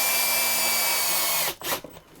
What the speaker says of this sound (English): Now we're just gonna put the mount on the wall and screw her into place.